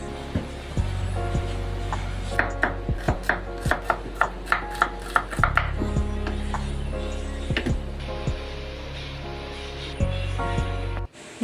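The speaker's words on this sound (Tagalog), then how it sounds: "naghiwa na ako ng bawang sibuyas" A knife chops garlic and onion on a board in quick, even strokes, a burst of close crisp taps running in the middle stretch over a steady background hum, with no voices.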